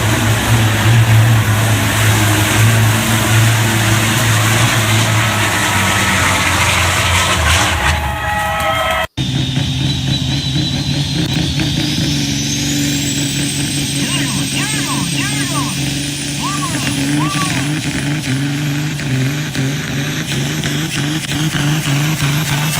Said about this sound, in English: I believe those are trucks that will actually be competing with us this summer in that semi class